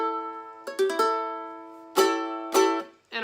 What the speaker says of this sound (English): So we're gonna put our ring finger on the 7th fret of our 2nd string